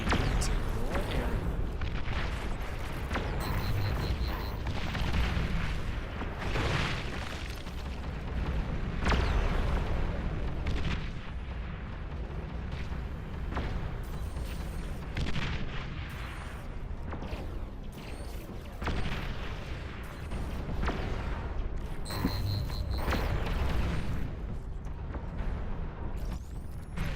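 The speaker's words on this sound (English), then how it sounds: "Whose Junos are firing out there?" Juno units firing in a large-scale RTS battle, a steady barrage of deep booms and explosive bursts rolling on continuously, dense and loud throughout with occasional sharper impacts.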